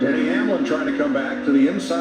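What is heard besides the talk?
No distinct noise like a dog, phone or traffic.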